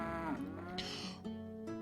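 Cattle in the Settlement Survival video game moo in a single long, loud, drawn-out call that wavers in pitch, with no talking.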